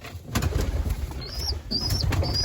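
Pet pigeons coo close by in a series of soft calls, with a few higher chirps and a quiet rustle between them.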